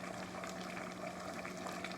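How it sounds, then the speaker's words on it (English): Collard-style greens simmering in a pot at a low boil, a steady soft bubbling and gurgling of liquid that continues evenly throughout, close by with no talking. "I'm going to let these greens cook down for another hour"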